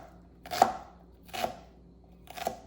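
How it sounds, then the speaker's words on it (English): A knife chops an onion on a board in three evenly spaced, crisp thuds, close and clear with no talk. "So I'm going to chop the onion"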